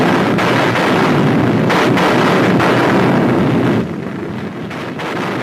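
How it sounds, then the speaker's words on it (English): Dense, continuous rumbling roar of Soviet artillery fire pounding German positions, loud and distant-sounding, with the barrage easing slightly near the end; no voices. "As the Soviet artillery pounded German positions"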